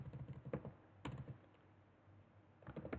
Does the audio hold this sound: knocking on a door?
no